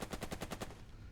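Rapid burst of automatic gunfire from the wargame Burden of Command, about six evenly spaced shots in quick rhythm, then fading into a short tail, heard alone at moderate distance.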